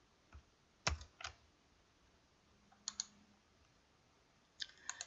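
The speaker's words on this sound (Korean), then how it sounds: "왼쪽 Alt키 누르고 있으면서 L 누르시고요" Computer keyboard keys clicked for an Alt+L shortcut, a few sharp isolated taps and short double clicks spaced across several seconds, close and quiet in a still room.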